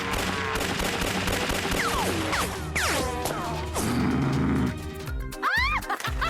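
Cartoon school fight with rapid bursts of big-gun fire, loud crashes and whooshing effects layered over busy music, ending in sharp sweeping zaps.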